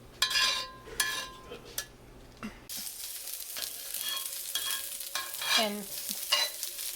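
Food sizzling on a hot comal as a utensil stirs and scrapes it, with clattering strokes at first, then a steady crackling sizzle and occasional scrapes; a brief spoken word.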